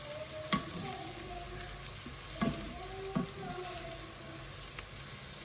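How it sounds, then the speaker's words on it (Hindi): Chopped onions browning in a pan give off a quiet, even crackling sizzle, with a few sharp clinks and scrapes of stirring scattered throughout. "मैंने यहाँ पर प्याज कट करके डाल दिया है और इसको हम वेट करेंगे जब तक ये ब्राउन नहीं हो जाता।"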